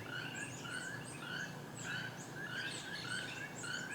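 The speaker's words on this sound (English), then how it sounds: "Keel-billed toucans are not blessed with a melodious singing voice" Keel-billed toucans in the Belize jungle calling with repeated harsh, croaking notes, a steady series of rising rasps over a continuous chorus of other birds and insects, moderately near.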